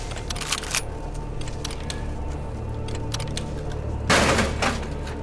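Shotgun firing in the horror game In Sound Mind, several sharp blasts spaced apart, the last one loudest and close, over a low humming background.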